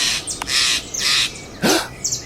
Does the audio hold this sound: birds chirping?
yes